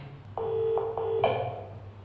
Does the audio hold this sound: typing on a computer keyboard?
no